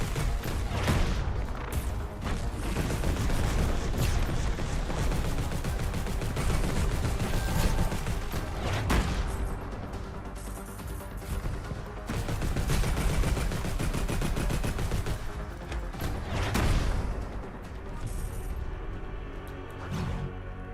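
Dense, continuous gunfire from shooting in the video game The Last Spell, loud rapid bursts layered over game music and effects, with brief dips before the firing resumes.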